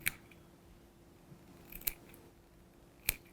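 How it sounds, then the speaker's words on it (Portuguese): Scissors snip small cuts into the edge of chita cotton fabric, a few sharp, crisp clicks spaced apart over a quiet room background. "você vem com a tesoura, olha, e vai fazendo vários piquezinhos nela"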